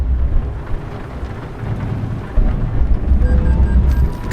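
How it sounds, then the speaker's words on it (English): Steady in-game rain in Euro Truck Simulator 2 on a Greek road, a dense continuous hiss with low rumbling underneath that swells louder partway through, no talking. "It looks like the rain is kind of stopping."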